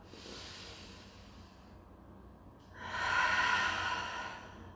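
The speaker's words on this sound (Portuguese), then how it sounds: "fazer o uso da respiração consciente" A slow, deliberate conscious-breathing demonstration: a long soft inhale, a brief pause, then a louder, airy exhale, close to the listener with no talking.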